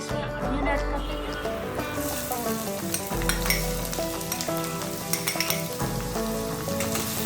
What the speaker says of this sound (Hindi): अब इसे हम सौते कर लेते हैं।